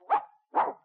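A dog gives two short, close barks about half a second apart, loud and clear against silence, with no voices around them.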